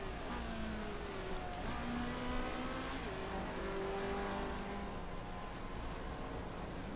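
Race car engines in Motorsport Manager drone steadily through laps, a continuous whining tone with gear-shift pitch changes and a faint high whistle, moderately loud and without talk.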